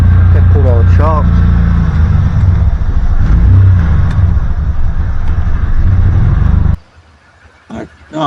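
A 1991 Ford Explorer with a Jeep conversion pulls away in first gear as the clutch comes out. Its loud, close engine rumbles and revs for several seconds, then cuts off abruptly, with a voice briefly over it.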